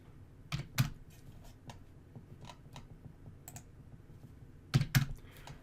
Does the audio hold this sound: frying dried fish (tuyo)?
no